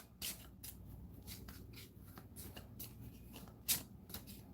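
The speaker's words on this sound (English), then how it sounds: "So we're going to shuffle up the deck on camera." A deck of playing cards is shuffled by hand, giving quiet repeated riffling bursts and soft flicks with a sharper snap near the end, heard alone.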